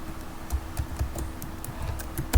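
Fast computer keyboard typing with irregular clicks and a few heavier key thumps, close and steady, with no voices over it.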